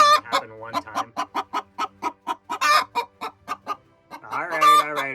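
A broody hen clucks up close in a steady run of short, evenly spaced clucks, ending in a longer, drawn-out vocal call with no talk over it.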